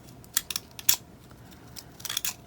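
Scissors snip through paper for homemade planner tabs, a few sharp close cuts in quick bursts with pauses between, alone in a quiet room.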